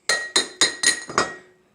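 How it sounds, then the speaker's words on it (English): A hammer gently taps the edges of a pulley on a Browning pulley removal job: five sharp metallic clinks at an even, quick rhythm, close and fairly loud, each ringing briefly before the next. "you just take you a hammer and just gently tap the edges of the pulley"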